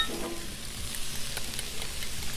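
Sauce hits shrimp fajitas on a hot Blackstone griddle, giving a steady, dense sizzle and crackle with some faint scraping. It goes on without pause and no voices are heard.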